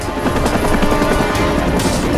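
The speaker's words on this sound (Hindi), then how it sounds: "लगभग 1250 मीटर की ऊंचाई तक पहुंचने में हेलीकॉप्टर को काफी वक्त लगेगा" A helicopter hovers while hoisting a rope to about 1250 metres, its loud, close rotor chop and engine roar filling the clip as a continuous rumbling thud without any voices.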